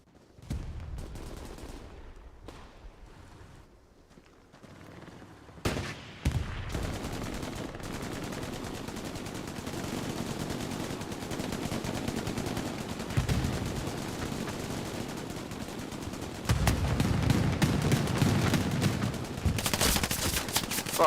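Steady stretches of gunfire in the World War II shooter game Hell Let Loose: scattered shots early on, then sustained bursts of rifle and machine-gun fire, growing louder and denser toward the end.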